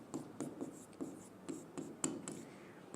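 Marker or chalk strokes on a board in a classroom lesson come as quick rhythmic scratches and taps, close and fairly quiet, with no one speaking over them.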